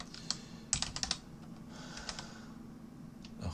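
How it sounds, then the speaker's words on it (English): A computer keyboard being typed on gives quiet, uneven bursts of light key clicks, a quick cluster early and then scattered taps over a faint steady hum, with no voices. "I was typing in a way which had my hand in the wrong position."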